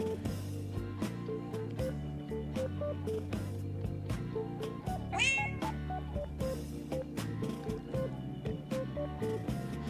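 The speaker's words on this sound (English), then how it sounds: "Dude, it's Hiriko's cat." Cat meowing in the video game Persona 5: The Phantom X, a single short rising meow over steady background music with plucked tones, heard near the middle.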